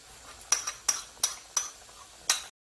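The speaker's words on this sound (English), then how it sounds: "stir gochujang with boiling ingredient" Gochujang and gochugaru stirred into boiling tteokbokki: five distinct metallic clinks of a utensil against the pot at irregular intervals over a quiet simmer, close up, then abrupt silence.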